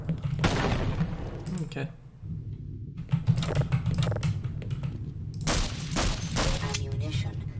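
Objects exploding in a video game map, heard as bursts of sharp crackling pops in rapid fusillade-like clusters, loud and close, with keyboard clicking and a brief spoken word between bursts.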